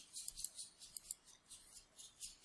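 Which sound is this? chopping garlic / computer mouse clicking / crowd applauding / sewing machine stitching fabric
computer mouse clicking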